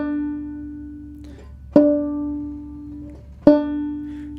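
Two plucked banjo notes, a harmonic and a fretted note at the 12th fret, ring out in turn over a steady sustained tone, each sharp attack decaying slowly; close and clear, no talking.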